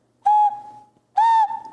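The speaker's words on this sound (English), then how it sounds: "I've got 2 new whistle designs I want to share with you. A chicken whistle and a kitty cat whistle." Two ceramic whistles, one shaped like a chicken and one like a kitty cat, blown one after the other as two clear, steady, pure-toned whistle notes, each about a quarter-second long and fading out, with a short pause between them.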